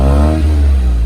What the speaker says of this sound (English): So this is how the exhaust note of the new N line is.